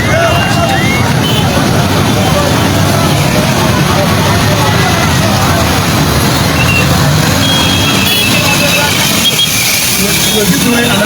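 Road traffic moving again after a crosswalk safety demonstration in Paynesville, a loud, dense wash of engines and trucks with reversing beeps and crowd babble throughout.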